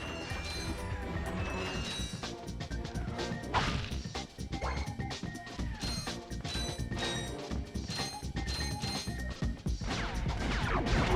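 Wrench melee strikes on enemies in the Ratchet and Clank video game, a dense run of loud smacks and crashes over busy game music and effects, hits landing in quick irregular bursts.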